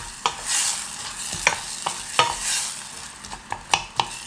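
Ginger and onions sweat gently over low heat in a pan, a soft steady sizzle broken by the scrape and clack of a spoon stirring every half second or so, with no one talking.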